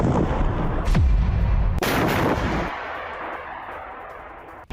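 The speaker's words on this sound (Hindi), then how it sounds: "हमास लड़ाकों ने विस्फोटक से टैंक को उड़ा दिया है।" Explosives blow up an Israeli Merkava tank in Rafah: one loud blast followed by a second sharp explosion, then a long roaring, fading rumble.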